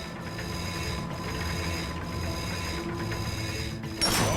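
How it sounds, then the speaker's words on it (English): A bolt crank being spun in Ratchet and Clank, a steady mechanical ratcheting whir that pulses in roughly one-second cycles before a brighter clunk near the end. "Get on that bolt crank. Come on, give it a spin."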